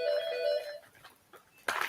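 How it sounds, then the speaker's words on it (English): A telephone rings with a bright, steady electronic tone for under a second and then cuts off. A short gap follows, then an abrupt noisy burst at the end. "I'll put this on mute until the phone stops ringing"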